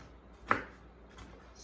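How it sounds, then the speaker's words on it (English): A knife chops through cooked bacon on a cutting board: one sharp, close knock, then a fainter second tap a moment later against a quiet background. "we'll have a little more room to chop up the bacon"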